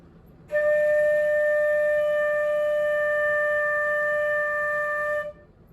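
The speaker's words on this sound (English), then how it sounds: "that is note name D on the flute." A single sustained flute note D, held steady and clear for about five seconds with a clean start and stop, played alone.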